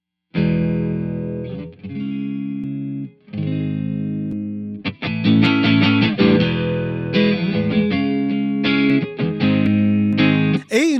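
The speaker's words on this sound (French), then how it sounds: "Le doubleur, c'est comme un genre de slap, une fausse stéréo avec le signal à droite puis un délai à gauche." An electric guitar plays through an amp's doubler effect, a slap-like fake stereo delay, with loud, distorted chords and riffs in uneven phrases and short gaps between them.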